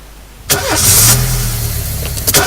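A car engine in the video game This is the Police starts with a sharp onset, then settles into a steady, loud idle hum with a brief bump near the end.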